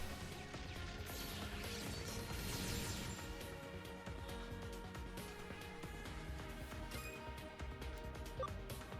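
A Wind Cutter Sword attack lands in Digimon Cyber Sleuth, a loud crashing slash with sweeping whooshes followed by a dense clattering impact that sustains to the end.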